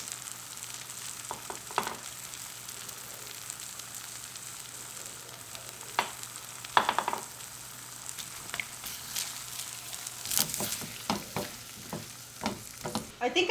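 Two large eggs sizzle and fry in a pan with salt and pepper for keto beef empanadas, a steady crackling hiss with sharper pops and stirring scrapes growing busier toward the end.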